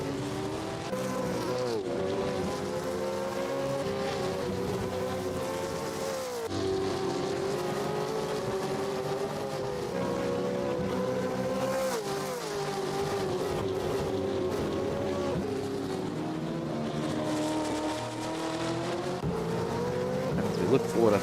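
Gen3 Supercars racing around the Adelaide street circuit in Assetto Corsa, engines droning steadily and loudly throughout with shifting pitch as cars accelerate and brake, a commentator talking over the top.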